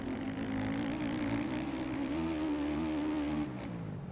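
Motocross bike engine in the MX Bikes racing game, a steady buzzing drone holding a high rev with slight pitch wobbles, then easing off near the end, loud and alone without talk.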